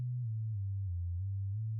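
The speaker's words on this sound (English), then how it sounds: "Let me just play like an octave swoop here" A pure synthesized tone from Ableton Live's Operator swoops an octave in pitch, dipping and gliding smoothly in a steady, continuous sweep with no other sounds around it.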